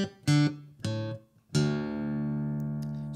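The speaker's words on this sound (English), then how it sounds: "I am dropping the bottom E down to a D, so this is going to be in drop D" An acoustic guitar in drop D tuning, with its lowest string lowered from E to D, rings out three times. Two short strums come first, then a long sustained chord that keeps ringing until the end, close and loud.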